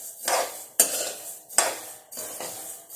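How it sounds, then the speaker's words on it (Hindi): Coriander seeds dry-roasting in a hot kadhai, repeated scraping stirs with metallic clinks of a spoon against the pan, close and rhythmic, with faint crackling beneath. "कढ़ाई अच्छे से गर्म है तो चट चट की आवाज़ आ रही है"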